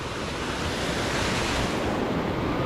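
Surf breaks along the beach at Playa del Carmen in Mexico, a steady wash of rushing waves with wind buffeting the microphone throughout.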